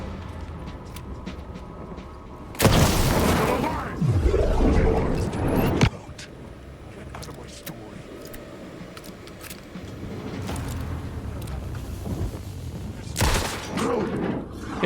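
Gunfire from a shotgun in the video game Alan Wake 2, two loud blasts several seconds apart, each with a booming tail, over tense game ambience and faint background noise.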